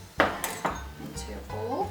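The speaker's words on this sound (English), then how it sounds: "I just kind of scoop out the hard bit" Solid coconut cream scooped from a can into a bowl, with a few close spoon clinks and scrapes against metal and dish, brief and uneven.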